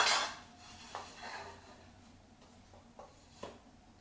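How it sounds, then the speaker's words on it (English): A GoSun Sport solar cooker's metal food tray slides into its evacuated glass tube, making a few light scraping clinks and knocks spaced apart over a quiet background. "Once it's all loaded up, you just slide it back in the tube."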